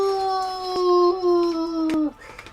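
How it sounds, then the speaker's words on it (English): A wolf, the pack's alpha, gives a single long, steady howl from the hills, clear and sustained for about two seconds before it breaks off abruptly. "the Alpha letting out a howl"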